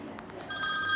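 A telephone bell rings in short bursts, close and fairly clear, rising in level over about a second.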